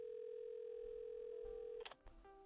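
In the video game Assemble with Care, a steady telephone dial tone hums faint and alone, then cuts off with a click as the receiver is handled, leaving brief clunks.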